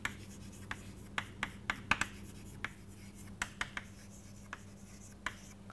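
Someone writes on a board during a maths lecture, making quiet, irregular taps and short scratchy strokes over a low, steady room hum.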